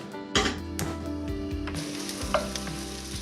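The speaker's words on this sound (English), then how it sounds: "we're just going to pop this on the stove and lightly fry it till it's lovely and soft" Herbs fry lightly in a pan on a stove for a vegan bolognese, with a steady close-up sizzle broken by a few sharp knocks and scrapes of stirring.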